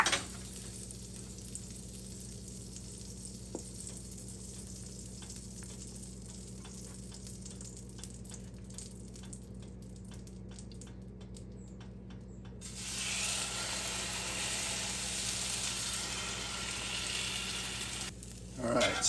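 Cinnamon and brown sugar French toast made with delicate sandwich bread sizzles in a cast iron pan over medium-low heat, a steady close frying hiss that swells louder partway through.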